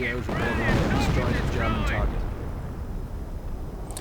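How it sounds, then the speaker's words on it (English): Howitzer artillery strike in a real-time strategy video game, a heavy booming barrage of blasts with rumbling explosions that fade into a lingering low roar, a commentator's voice running over it. "another howitzer strike just absolutely damages everything"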